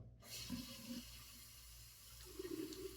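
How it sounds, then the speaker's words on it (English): Water dribbles off a wet hand into a shaving bowl in a soft, faint trickle, with small splashy surges near the start and end and no talking. "I just let it kind of dribble into the bowl"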